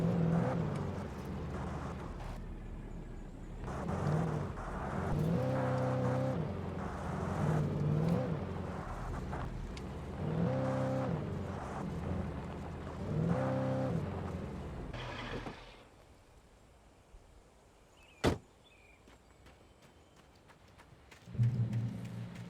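A car driven in Alan Wake Remastered, engine droning and surging with rev rises, revving up and easing off repeatedly, then fading to a quiet hum with a sharp click and a final rev.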